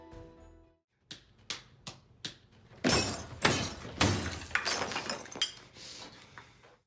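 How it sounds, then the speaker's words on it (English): A real mirror is smashed by a man's head, glass shattering: a few sharp clinks, then several loud, close crashes of breaking glass with tinkling shards spilling and scattering for a few seconds, no talk. "Tatum chose to smash a real mirror with his head, resulting in shattered glass and real cuts on his face."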